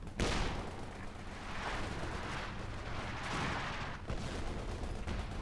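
Rocket artillery barrage in the World War II strategy game Company of Heroes 2, a launcher firing around thirty rockets: a dense, continuous roll of booming blasts and rumbling impacts, loud and sustained with repeated surges.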